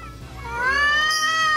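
A cat called Kim Moyong, an Indonesian village cat, gives a single drawn-out rising meow that swells into a loud, whiny caterwaul, heard close and clear with no speech.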